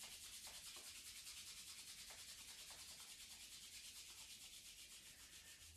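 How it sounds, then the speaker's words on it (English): Steady, rhythmic friction of two palms rubbed briskly together during a home yoga class, a close, soft hiss that swells and eases with each stroke and continues without talk. "Rub your palms together."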